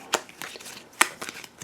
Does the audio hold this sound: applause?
no